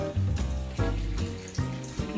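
Lukewarm water poured into bread dough ingredients in a kitchen, a steady splashing pour with several surges, close and fairly loud, heard alone.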